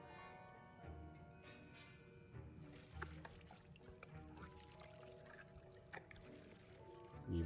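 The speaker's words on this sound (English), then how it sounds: "Add more Horklump juice." Horklump juice poured into a cauldron during a potion-brewing scene in Hogwarts Legacy: a soft, continuous liquid trickle and pour, faint and low, mixed with quiet game music and ambience.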